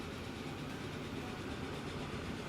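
A locomotive rolls steadily in the Transport Fever 2 game, a dense continuous rumble of engine and rail noise with faint wheel clatter, loud and even throughout with no talking.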